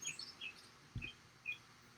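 A bird gives a few short, high chirps, faint and somewhat distant, in an otherwise quiet setting with one soft low thump.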